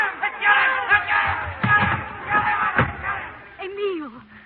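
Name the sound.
angry mob shouting in radio drama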